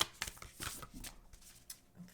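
A deck of oracle cards is shuffled by hand in a quiet room, giving quick papery riffles and soft slaps in several short bursts over about two seconds, close and fairly faint.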